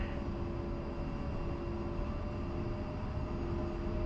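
An A-10C jet taxiing toward the runway holding point in the DCS flight sim, a steady loud engine drone with a constant whine and no change in pitch, heard alone.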